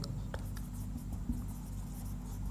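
Pen scratching on paper while writing out a maths answer, soft steady strokes with small taps, close and quiet over a low background hum.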